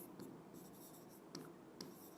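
A pen scratches across paper in short, quiet strokes with small pauses while a memory trick about Arunachal Pradesh is written out.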